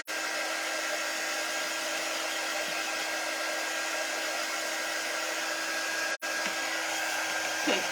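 A hair dryer runs for a quick burst to dry craft paint, a steady moderate whoosh with a faint hum, broken by one brief cutout before resuming.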